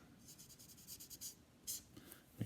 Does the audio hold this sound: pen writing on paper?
yes